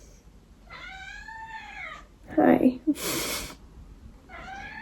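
A pet cat gives a short meow between a woman's greetings to it, the cat's call brief and close against her soft, friendly talking.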